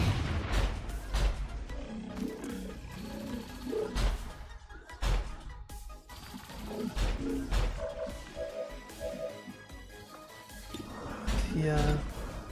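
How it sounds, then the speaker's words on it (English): Sniper rifle shots in the tactical video game XCOM 2, several sharp booming reports and impact crashes scattered through dense game music and effects, with people talking over them. "And then we can actually increase focus fire by having the snipers take the shots."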